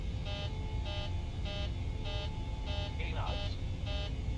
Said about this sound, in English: And there we have an alarm again.